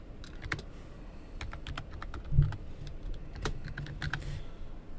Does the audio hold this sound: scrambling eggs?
no